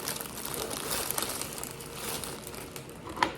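Plastic wrap crinkles and rustles steadily around a holiday gift basket during wrapping, a close, continuous crackling with a few sharper snaps.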